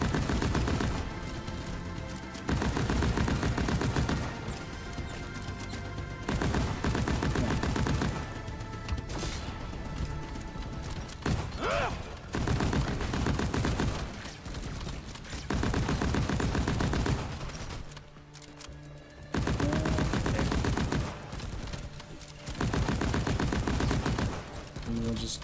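Heavy full-auto gunfire in Deep Rock Galactic, coming in long sustained bursts separated by short lulls across the stretch, loud and continuous during each volley.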